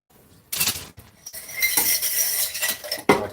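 Cutlery and a cup rinsed under a kitchen tap, with metal utensils clinking and rattling against the cup and sink in short bursts over steady running water, close and fairly loud.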